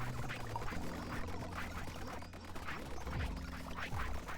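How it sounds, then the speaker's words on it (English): Repeating duck-like quacks from the video game Autonauts, sounding as a series of short nasal calls spread across the clip over a busy, continuous game soundtrack with low sustained tones. "There is a repeating sound for this game that sounds a lot like your ducks"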